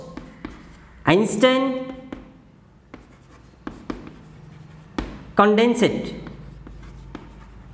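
Chalk or marker writing on a board during a chemistry lesson, repeated scratchy strokes and taps close up, interleaved with someone talking.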